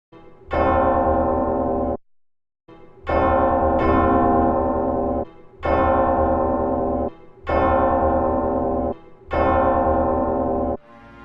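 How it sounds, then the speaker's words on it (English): Deep, sustained bell-like chimes ring from a grandfather clock in the corner of a room, one after another with short pauses between them. Each tone is loud, rich and resonant and rings on without any talk. "the grandfather clock in the corner of the room started to ding"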